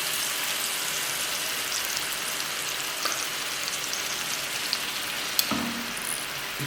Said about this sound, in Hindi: इस तरह हमने चिमटे के साथ 1-1 बोटी इसके अंदर डालते जाना है।